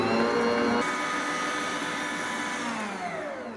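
Electric mixer whirring steadily as it creams shortening, butter and sugar for a fresh coconut cake, a loud continuous motor drone with a brief heavier churning at the start and no talk.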